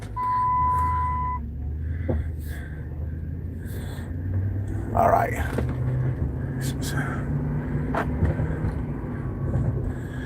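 A pickup truck with a faulty wiring problem rumbles low and steady at engine idle, with a short electronic beep at the start and a voice talking over it.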